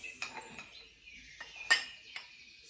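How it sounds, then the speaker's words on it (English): A tablespoon clinks against a glass while flour is added, giving several sharp, bright taps spaced irregularly over a few seconds, close and clear in a quiet kitchen. "put the flour into my glass"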